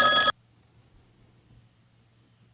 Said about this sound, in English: Got a phone call.